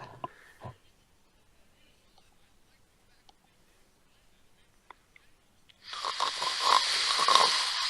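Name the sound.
person imitating a snore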